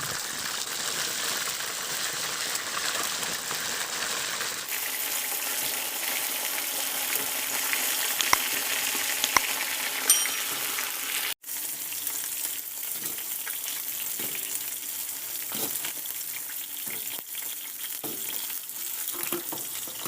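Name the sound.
chicken wings frying in oil in a pan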